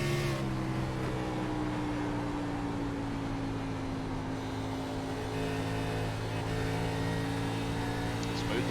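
Racing car engine in a Busch Series sim race at Homestead, driven hard, a steady high drone with sustained whining tones throughout, with a commentator's voice running over it.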